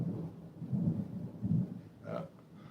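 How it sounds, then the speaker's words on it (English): Low thunder rumbles in a couple of soft swells, faint and distant, with a brief brighter rattle near the end and no voices. "Thunder."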